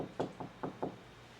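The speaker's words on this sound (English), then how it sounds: "Knock on their door as if you're in charge and you get their attention." Four firm knocks on a house door in two quick pairs, close and clear with no talking.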